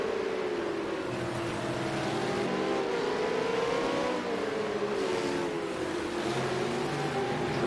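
V8 Supercars racing on the Long Beach street circuit in a video game, several cars close together in a slipstream, a steady loud engine drone with rising and falling pitch as the cars accelerate and shift.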